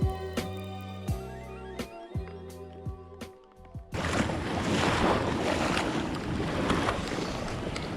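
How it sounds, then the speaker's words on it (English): Big ocean waves crashing and surging onto the shore beside a beached kayak, a loud broad roar that takes over halfway through after a stretch of clicks and knocks. "there's some pretty big waves"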